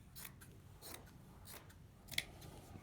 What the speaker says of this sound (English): So I just cut from the seams.